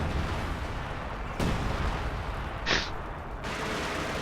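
Artillery fire from a World War II strategy video game, with guns pounding Soviet forces, comes as steady battle rumble broken by a few sharp blasts and one brief high whistle-like crack.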